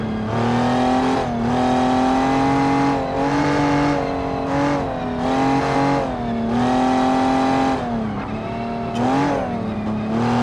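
A well balanced car in BeamNG drives hard, its engine revving up and down in repeated loud, close surges with gear changes and brief dips, alone without talk.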